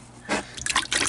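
Oil poured into a container of water for a bearded dragon's stuck-shed soak, giving short wet splashes and drips in bursts, close and fairly loud, with no talking.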